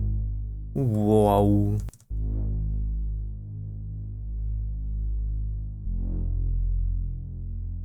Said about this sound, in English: that's going to open up this filter just a little bit, like a little brassy sound